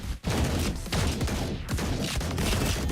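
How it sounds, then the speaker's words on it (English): Rapid volley of shotgun blasts in the video game Blue Archive, loud and close, with dense overlapping shots stacking into a near-continuous fusillade for a few seconds. "The sound of all the shotguns makes this all the more hilarious."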